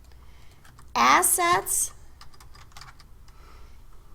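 Typing on a computer keyboard: faint, scattered key clicks pick up after a short spoken word and continue lightly and unevenly at close range.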